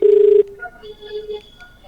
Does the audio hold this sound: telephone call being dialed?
yes